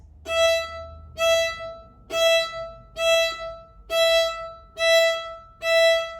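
Seven short, detached staccato bowed violin notes on the open G, D, A and E strings, evenly spaced about a second apart, each clear and bright with a rich harmonic ring, played alone.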